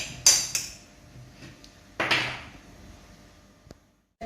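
Cutlery scraping and clinking against a bowl while food is crushed for a summer dish, two sharp clattering strikes followed by softer taps and scrapes, close and alone with no talk.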